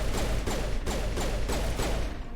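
Sustained gunfire in the video game Mass Effect, loud repeated bursts of shots roughly every half second over a constant low rumble of battle noise.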